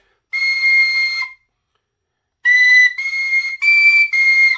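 A clear, pure tin whistle note at C sharp sounds alone, one sustained tone, a pause, then four more held notes in quick succession at the same pitch.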